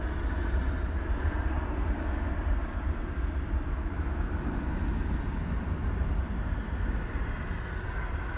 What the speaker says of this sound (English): American 2063 is this 737-800